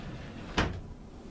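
A drawer in a workshop tool station sliding shut with a single short, close thud, standing out briefly over low room noise.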